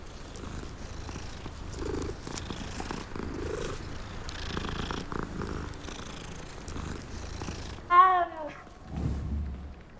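A cat in a Hogwarts video game purrs steadily and softly while being petted, a low continuous rumble that runs through the clip, with a brief higher meow-like call near the end.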